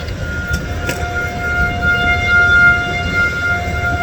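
A civil defense emergency siren sounds during its weekly Monday noon test in Wichita, Kansas, a steady, loud wailing tone held continuously with faint background noise and no talking.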